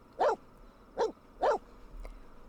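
A small pet dog in The Sims video game barks three times during a walk, evenly spaced and fairly close, followed by a faint fourth yap with no talking.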